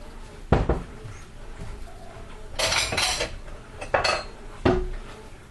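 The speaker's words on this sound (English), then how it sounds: "I'm going to use a pasta bowl." Ceramic clinks and knocks of a pasta bowl being handled while plating sausage gravy, a few sharp taps spaced across a few seconds amid soft kitchen rustle.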